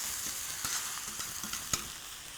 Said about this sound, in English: Look how quickly this spinach cooks.